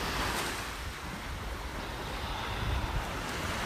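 Ocean surf washing steadily onto a beach, a continuous broadband roar with slight swells in intensity and some wind noise on the microphone, no voices.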